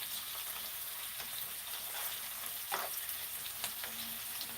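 Onions caramelizing in a pan on a home stovetop, a steady broadband sizzle with small pops and crackles throughout, close and fairly loud, with no voices.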